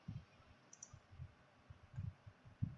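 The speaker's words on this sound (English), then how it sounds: "Click next, and here once more we will click next" A few soft, close mouse clicks tap out while stepping through a VMware network server setup, quiet and irregular over a low background hum.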